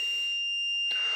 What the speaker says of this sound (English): I could see the alarm's going off